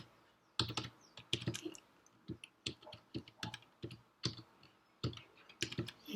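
Keys clatter on a computer keyboard in uneven bursts of quick clicks with short pauses between them, close and fairly quiet, with no voices.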